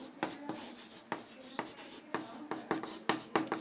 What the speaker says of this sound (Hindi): यहाँ पर लिखता हूं मैं आपको